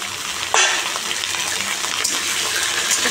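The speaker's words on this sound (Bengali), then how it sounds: "কপিটা আলুটা লাল করে ভাজি" Cauliflower and potatoes frying in a pan with a loud, constant hissing sizzle, close up, with a stirring scrape partway through and no talking.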